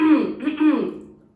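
A throat being cleared, a rough, voiced rasp that swells twice over about a second before fading, close and fairly loud, heard alone.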